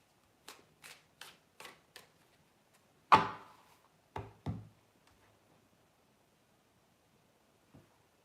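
Tarot cards being shuffled and drawn on a quiet table: a short run of soft, evenly spaced taps and flicks, then a sharper slap and a few louder card placements, ending with one faint tap.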